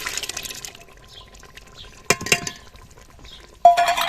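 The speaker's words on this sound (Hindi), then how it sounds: "चने का सालन जो लेके आई हूँ वो इसमें मैं ऐड कर देती हूँ" Chickpea curry slides and splats wetly into a pot that already holds potato curry, with a clink of a utensil against the rim and a final louder plop, close and fairly loud, with no speech.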